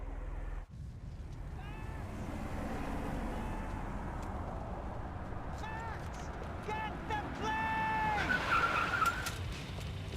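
A car in the video game Max Payne 3 drives and skids, its steady engine and tire noise running under frequent voices, with squealing tire tones rising toward the end.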